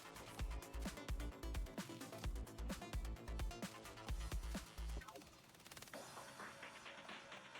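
Rapid, punchy gunfire from a gunman in a video game pops in a quick irregular rhythm for about five seconds, close and fairly loud, then settles into a softer busy rattle.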